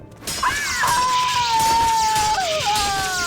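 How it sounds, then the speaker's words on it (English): A character in the video game Morrowind gives a drawn-out moaning wail that rises, holds steady and then bends downward, loud against a constant game background. "Can you please not scream as loudly? Can you please moan in silence?"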